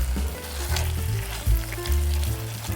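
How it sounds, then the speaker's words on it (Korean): Gochujang paste sizzles and fries in a hot Staub pot, stirred with occasional scraping, a close and continuous crackle. "고추장을 먼저 넣고 볶아주면 더 맛있어요"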